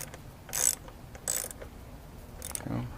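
A ratcheting tool tightens bolts on the cover of an edger bike project, giving short bursts of rapid clicking with pauses between, close and moderately loud over a quiet workshop background.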